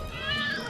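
A pet cat meows briefly at close range in a short, soft vocalization.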